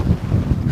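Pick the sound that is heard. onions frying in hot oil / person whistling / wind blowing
wind blowing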